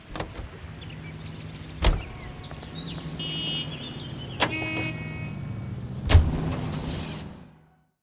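A car in the L.A. Noire video game hums along at low pitch, broken by three sharp thumps and a brief horn-like tone, before the sound fades out.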